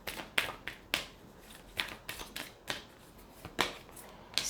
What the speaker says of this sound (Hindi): यहाँ से हम एक कार्ड पुल आउट करेंगे।